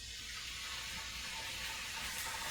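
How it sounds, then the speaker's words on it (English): Beef strips sizzling in a hot frying pan while cooking beef and egg fried rice, a steady, bright crackling hiss that holds evenly throughout without pause. "I'm going to put the beef in the pan"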